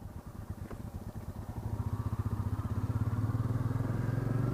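A Royal Enfield Meteor 350 motorcycle pulls away close by, its single-cylinder engine thumping in a steady rhythm that grows louder and faster as it gets under way, with no talk over it.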